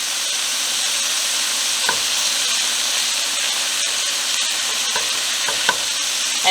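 Loud, steady sizzling of onions frying in a pan as tomato goes in, a dense continuous hiss with occasional stirring scrapes and clicks.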